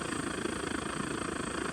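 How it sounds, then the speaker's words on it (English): A Coleman 520 WWII-era camping stove burner roaring steadily outdoors during a field test, a loud constant jet-like rush with a fluttering pulse and no talking. "It sounds like a jet boil, but it does not perform as a jet boil"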